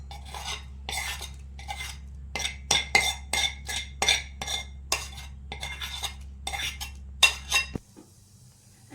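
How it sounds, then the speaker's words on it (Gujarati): Roasted garlic scooped from a kadai into another bowl with a metal spoon, a rapid run of sharp clinks and scrapes against the pan over a low steady hum, ending abruptly in near silence. "હવે આપણે બીજા બાઉલમાં આ રીતના કાઢી લઈએ."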